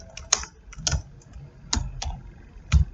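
Keys on a computer keyboard are tapped in short, irregular bursts of sharp clicks with pauses between them, close and clear with no talking.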